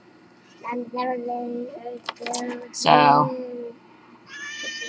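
A cat meows several times close by, mixed with a person speaking nearby and a brief higher wail near the end.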